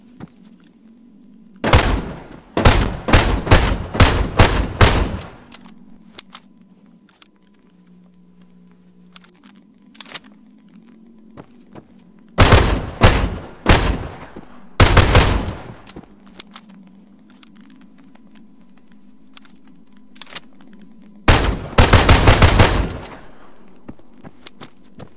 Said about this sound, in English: move on to the Beneali M4 Super 90 shotgun